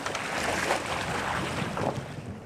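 A sailing outrigger canoe cuts across the water under wind, with steady rushing wash and gusty noise that swells and fades in broad surges, loud and close throughout.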